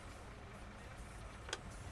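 Tractor engine in a farming simulation game running at a steady low idle, a continuous quiet rumble with a brief click near the end, no voices.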